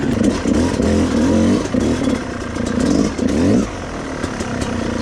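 A Yamaha YZ250X motocross bike engine revving nearby: loud, raspy bursts that swell and drop in pitch several times, then settle to a steadier drone.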